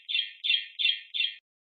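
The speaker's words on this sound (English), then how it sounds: "that sounds like the bird chirp" Four evenly spaced high bird chirps played back from a recording, each short and bright, clean and isolated against silence, ending abruptly.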